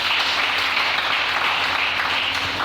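A church congregation applauds to acclaim the Lord, a steady dense wash of clapping that holds loud and even throughout.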